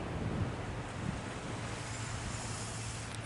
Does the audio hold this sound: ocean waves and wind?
yes